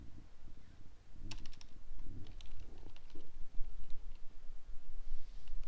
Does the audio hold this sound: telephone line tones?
no